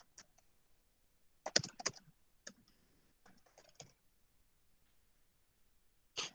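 Sporadic bursts of typing on a computer keyboard, quick clusters of light clicks separated by pauses, close and fairly quiet in an otherwise still room.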